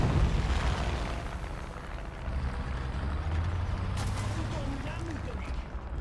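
Gunfire and explosions from War Thunder, a video game, form a dense, rumbling battle din with low booms and bursts under continuous noise, moderately loud throughout, with a few sharper cracks near the end.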